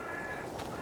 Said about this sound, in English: The sun's out, birds are singing,